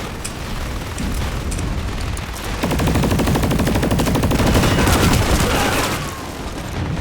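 Rapid automatic gunfire rattles in bursts in the video game Planetside, loud and close, with booming impacts building into a sustained fusillade before easing off.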